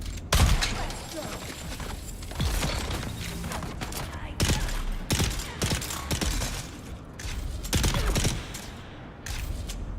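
Gunfire from a weapon in the video game Dune: Awakening, heard as dense repeated bursts of loud, close shots with brief gaps between volleys and game noise underneath.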